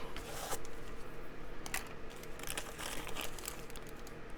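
Paper crinkling and crumpling as a glued junk journal page is folded up, a series of close, dry rustles and crackles in irregular bursts, with no talking.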